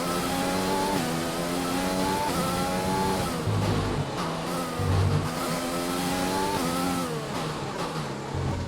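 A Formula 1 car engine in the racing game F1 2020 screams at high revs without pause, its pitch climbing and dropping through quick gear shifts, loud and close with no talk.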